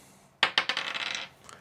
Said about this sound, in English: rolling the dice